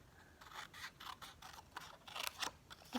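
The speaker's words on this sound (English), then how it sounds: "So I'm just going to cut a square off here so I can put that over" Scissors snipping a square from a sheet of Seal Plus adhesive film during a papercraft project, a run of soft, close, rhythmic cuts with a slightly papery scrape, fairly quiet and with no voices.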